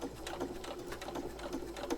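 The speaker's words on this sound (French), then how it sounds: "Je mets un petit coup de pédale." A sewing machine runs at a steady, rapid stitching rhythm after a tap on the pedal, its quick mechanical clatter repeating evenly at moderate volume with no talking.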